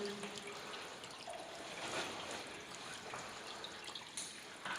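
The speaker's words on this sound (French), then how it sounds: "Écoutez l'eau." Water trickles faintly at the source of the Ain river in a dry October, a soft, continuous liquid trickle with small drips, close by and quiet.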